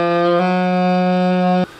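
A saxophone sustains a single steady D sharp (E flat), clear and close with a rich harmonic tone, with a slight shift just after the start, then stops cleanly.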